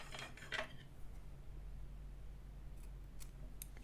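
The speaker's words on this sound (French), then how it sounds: "vous pouvez déjà couper les fils" Scissors snip through crochet yarn threads at a table, a few quick crisp cuts near the start and later, over a steady low hum with no talk.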